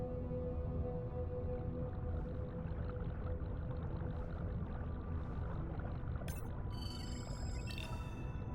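Whale calls played back underwater through a playback system, faint tonal moans and whistles over a constant low hum of water and boat noise, with brief high chirps near the end.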